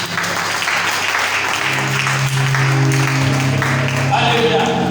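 A church congregation applauds in a loud, sustained wash of clapping that fills the room, with voices calling out beneath it.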